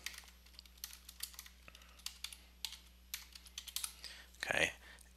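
Quick bursts of typing on a computer keyboard, close and fairly quiet, with irregular clusters of key clicks and a louder flurry near the end.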